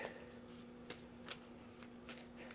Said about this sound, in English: Oh, then I gotta shuffle the deck.